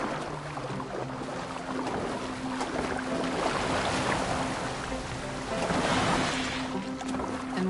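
A boat moves across open water in Assassin's Creed Valhalla, with a steady wash of water and a low hull rumble that swells toward the end, plus faint tonal game music underneath.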